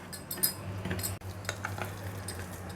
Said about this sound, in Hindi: ये लीजिए, हमने अपनी दही और रवा को मिक्स कर दिया है